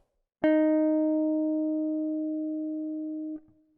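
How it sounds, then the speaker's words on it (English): One guitar note, E flat on the 8th fret of the 3rd string, struck cleanly and sustained for about three seconds before being damped, with no other sound. "and then E flat, 4th finger, 8th fret, 3rd string."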